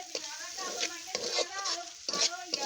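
Food is stirred and fried in a pan, with a continuous sizzle and repeated scraping strokes of a utensil against the cookware, close and steady.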